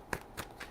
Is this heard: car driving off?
no